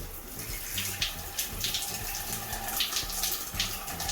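Water streams steadily from a shower tap in a rental house bathroom in Trinidad, Cuba, a continuous close hiss and splash that swells and eases slightly without pause.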